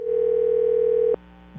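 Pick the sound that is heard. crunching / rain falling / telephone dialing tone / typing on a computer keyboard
telephone dialing tone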